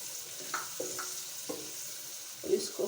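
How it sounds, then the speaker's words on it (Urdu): Vegetables, including chopped carrots, frying in a pan for Chinese rice, giving a steady soft sizzle with a few sharp clinks of stirring spaced through the stretch, no voices over it. "اس کو فرائی کریں گے۔"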